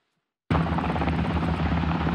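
A Caïman military helicopter flies during a NATO exercise in Romania, its loud, steady rotor and engine roar cutting in abruptly and continuing close and unbroken.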